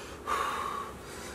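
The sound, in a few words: heavy breathing of pregnant woman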